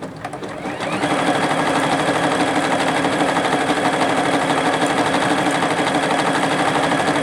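A Juki HZL-F300 sewing machine stitches steadily, starting up within the first second and then running at a constant fast, whirring pace, loud and close, with no one talking over it.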